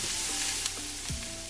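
Onions sizzle in a frying pan as they turn brown, a close, steady hiss of hot oil with a few light scraping stirs, no voices.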